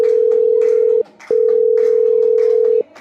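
A steady telephone tone sounds loud and close while a call is placed at home during heavy rain, broken by two short gaps, with faint background noise beneath.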